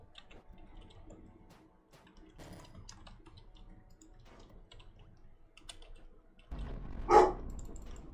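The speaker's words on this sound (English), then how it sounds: "My dog is barking." A dog barks once or twice in the background of a room, faint and somewhat distant, after several seconds of soft keyboard typing and clicking.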